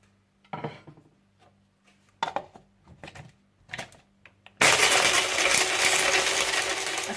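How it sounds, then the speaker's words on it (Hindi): Green cardamom pods and black peppercorns for biryani masala rattle and clink in a grinder jar in short bursts, then the grinder roars into a loud, steady whir. "और इन्हें अच्छी तरह से आप पीस लीजिए।"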